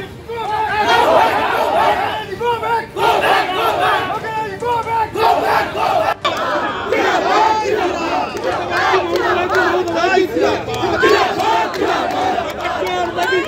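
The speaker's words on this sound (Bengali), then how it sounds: "লকেট চট্টোপাধ্যায়কে গো ব্যাক স্লোগান তৃণমূলে, পাল্টা জয় শ্রীরাম স্লোগান দেয় বিজেপি কর্মীরা" A crowd outside a strong room at a counting centre in Hooghly, West Bengal, with rival party workers shouting 'go back' and 'Jai Shri Ram' slogans. Dense, continuous chanting and shouting from many voices, loud and close throughout.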